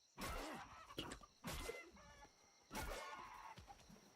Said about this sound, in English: there's a chicken running around somewhere. I hear it.